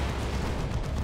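Phobos tank lascannons fire in a Dawn of War 2 battle, a dense, loud, continuous roar of blasts and low booming with no voices.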